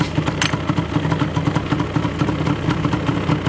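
A Yamaha Banshee 350 two-stroke quad with stock twin pipes, started and left idling: a loud, close, rapid popping burble that stays steady and lumpy throughout, with a brief sharp clack near the start and no talking.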